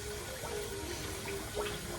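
Tap water running steadily into a vessel, a continuous close rushing flow with a faint gurgling tone rising and falling.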